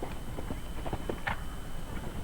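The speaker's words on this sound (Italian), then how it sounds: "E nell'occasione monta Babushka, un castrone sauro di 8 anni di origine belga." Hooves of Babushka, an 8-year-old Belgian chestnut gelding, clip-clop in a steady rhythm over a show jumping course, muffled against a broad background hum of the arena.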